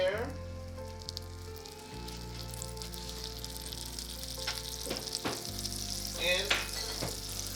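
Butter and mushrooms sizzle steadily in a frying pan, a continuous crackle with occasional stirring scrapes, fairly close and heard without talk.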